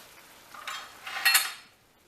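Chicken marsala cooking in a pan, heard as a few short bursts of light sizzling and utensil scraping against the cookware, brief and close, with no talk over it.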